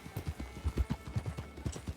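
Hooves of a ridden thoroughbred horse clip-clop in a steady, moderately loud rhythm in a game set on an 1899 trail, with regular paired footfalls throughout.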